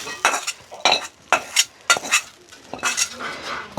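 Food is stirred and sautéed in oil in a cooking pot in a village kitchen, with repeated scraping and clinking of a metal spoon against the pan in irregular bursts, close and fairly loud, with no voices.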